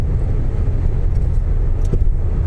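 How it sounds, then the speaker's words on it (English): A car overtakes a truck on a motorway, giving a loud, steady low rumble of engine and road noise heard from inside the car with no talk. "I'm going to overtake this truck"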